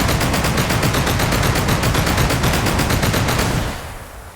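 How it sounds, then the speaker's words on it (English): A big heavy machine gun in the survival game Sunkenland fires a long, rapid, evenly spaced burst, loud and close, then the fire stops and the sound tails off into near silence. "Now we're going to go with the big heavy machine gun."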